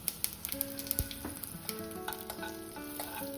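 Garlic and curry leaves hit hot oil already spitting with mustard seeds in a home kitchen pan, giving a dense, close sizzle with sharp pops and crackles and a few stirring clinks, no voices.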